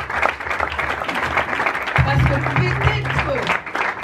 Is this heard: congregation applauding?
yes